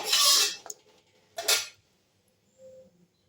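Thick dal with kachu vegetable, finished with ghee and garam masala, scooped from a cooking pot onto a plate: two bursts of utensil scraping and clinking against metal, then a faint tap, with no talking.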